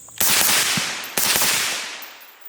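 Two suppressed shots from a rifle fitted with an IWI silencer, each followed by the loud ringing clang of a small steel target, spaced about a second apart outdoors.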